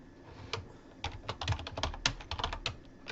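Rapid clicking of keys on a computer keyboard comes in an irregular run of close, crisp taps while label text is being edited, with no talk.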